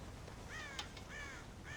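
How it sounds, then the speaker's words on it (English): Crows caw in Red Dead Redemption, three or four harsh calls spaced across a brief moment over a steady background hiss, fairly faint and with no talking. "God damn crows!"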